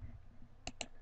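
A computer mouse gives two quick, crisp clicks in close succession, a double-click, over a quiet room hum.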